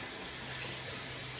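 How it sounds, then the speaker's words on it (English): Tap water runs steadily into a kitchen sink as cauliflower is rinsed, a soft, continuous hiss and splash heard close up with no voices. "Let me rinse this off."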